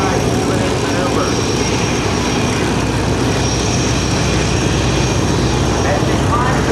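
Patty Wagstaff's aerobatic propeller plane flying an outside split at the 2006 NAS Oceana airshow, its engine a steady, loud droning roar heard from a distance across the field, with an announcer talking over it.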